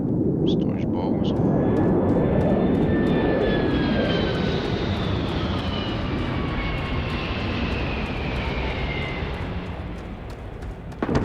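Spaceship with big chunky engines in the video game Starfield, a steady loud jet-like roar with rising and falling whine tones sweeping across, continuous throughout and swelling slightly at the very end.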